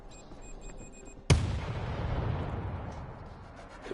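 A single heavy explosion from a remote explosive in the zombie shooter World War Z, a sharp loud boom at once followed by a long rumbling decay with faint game sounds underneath.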